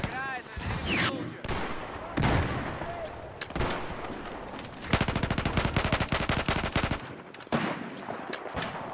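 Rapid gunfire in the Battlefield 4 PC game: bursts of automatic fire and single loud shots, with a sustained machine-gun stretch in the middle, dense game noise throughout.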